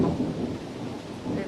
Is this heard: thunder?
yes